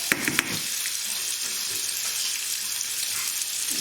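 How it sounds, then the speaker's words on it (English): Beef pieces drop into hot oil in a pan, with a few quick clatters at first before a steady, dense sizzle settles in and keeps going throughout. "So I've put the oil on and we're just going to put our meat in."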